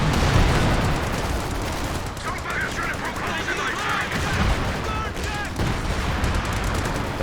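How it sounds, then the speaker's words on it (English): Base howitzer artillery fire in a Company of Heroes 2 match, a dense, continuous barrage of booming blasts and crackling gunfire with some high whistling tones, loud throughout. "Base howitzer fire coming out"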